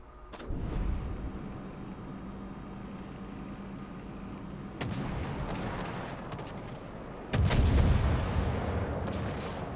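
Warship guns firing high explosive shells in World of Warships, from the Eendracht, a low caliber gun ship, boom repeatedly in heavy rumbling salvos, with a few sharp reports over continuous loud engine and water noise.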